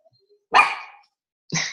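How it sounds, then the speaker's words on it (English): A small dog gives two sharp, loud barks close by, the first a bit longer, with a short quiet gap between them and no talking. "And your little dog."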